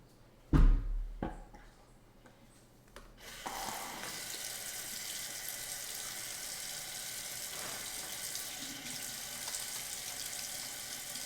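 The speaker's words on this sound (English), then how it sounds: "I rinse my hand and then I'll show you." A kitchen tap gushes steadily while a hand is rinsed, starting after a few knocks and a clunk, then running as a loud continuous hiss that holds to the end.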